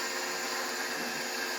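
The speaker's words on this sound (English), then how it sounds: "So we're going to turn our blender on, and now we're going to add our flour" A blender runs steadily through mixing sourdough bread dough as flour is added, a constant broadband whir heard up close with no talking.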